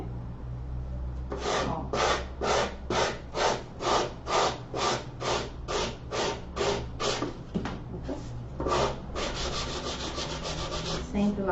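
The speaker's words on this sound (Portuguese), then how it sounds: "Já vou com a lixa de pé." A foot file rasps back and forth in a quick, even rhythm of about a dozen strokes, close and dry, then a faster flurry of short rubs; a voice briefly speaks over it.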